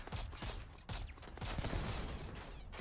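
Rapid rifle fire in the Starfield video game, a dense stream of close, loud shots with little pause between them, continuing for the whole stretch.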